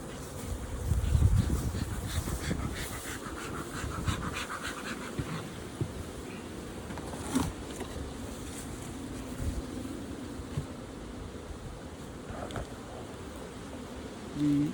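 Honey bees in an open hive under inspection, a steady low buzzing hum throughout, close and moderately loud, with brief handling knocks and no voices.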